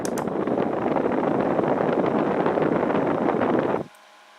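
Etmury mini fan running, a steady close airy whoosh that holds evenly for several seconds and then cuts off abruptly, leaving near silence.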